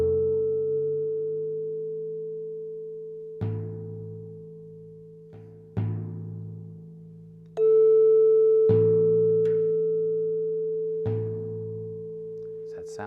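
A drum tuned to the note A is tapped several times against a steady held reference tone, each tap giving a short, soft resonant thud that rings out and fades.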